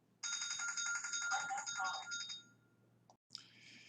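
A mobile phone rings with a bright, steady electronic ringtone for about two seconds, close and clear, then cuts off abruptly before a brief second burst.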